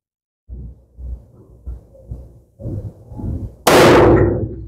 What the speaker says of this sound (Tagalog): Test fire, firing.